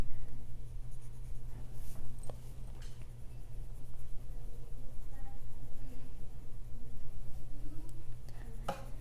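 A DaVinci colored pencil scratches steadily on paper in close, repetitive back-and-forth strokes, a fine rhythmic rasp continuing for several seconds over a low steady hum.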